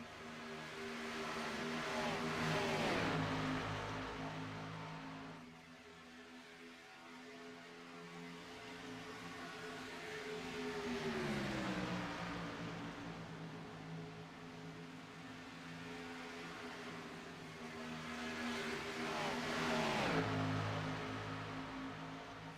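Several race cars battling around the Las Vegas track in an Xfinity Series racing video game, engine roars swelling and fading as cars pass, droning continuously without voices.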